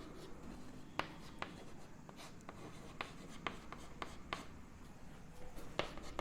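Marker or chalk writing on a board during a geometry lesson on concave mirrors, a steady scratchy stroking with sharp taps at the start of strokes, close and fairly quiet, with no talk.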